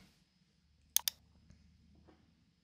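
A computer mouse on a Windows PC gives two quick, close clicks in a row, crisp and fairly faint against a quiet background.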